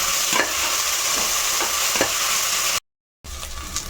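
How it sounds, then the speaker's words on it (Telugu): Ginger paste fries in hot oil for coconut pulao, giving a loud, steady, close sizzle with occasional scraping stirs. The sound cuts out briefly before the frying resumes. "ఇది కూడా వేయించేసుకుందాం"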